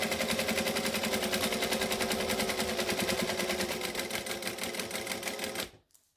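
A sewing machine stitches slowly along the border of a strip of Velcro, its needle hammering in a fast, steady rhythm that is loud and close, then stopping abruptly near the end.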